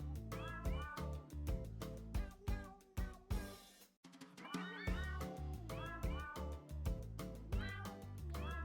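Repeated meowing of a cat in the video game Strange Antiquities, a dense run of short, closely spaced meows over a low background bed, with one brief pause midway.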